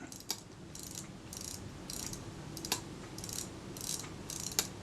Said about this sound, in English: Check what happens as I revolve the take-up spool.